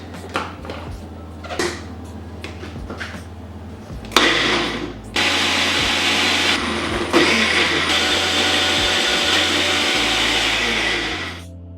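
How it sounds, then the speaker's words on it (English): A blender blitzes a marinade of garlic, ginger, spring onions and sesame oil on high, starting with clinks and short bursts, then a loud sustained whirring roar for about seven seconds before it winds down. "I'm going to blitz this on high until I get a smooth and silky marinade."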